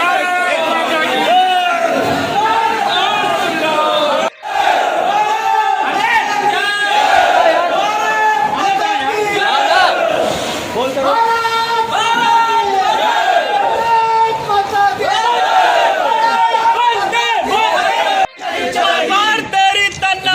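SP councillors at an Ayodhya municipal corporation meeting erupt in uproar, a dense crowd of raised voices shouting and chanting slogans together, loud and continuous with overlapping yells in a large hall.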